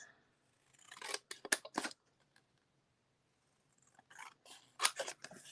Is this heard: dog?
no